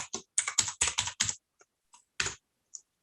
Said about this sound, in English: so we can see what you're typing